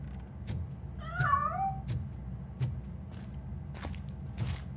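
In the video game Robocop: Rogue City, a cat lets out a single wavering meow over a steady low ambient hum, with several faint clicks and ticks scattered around it.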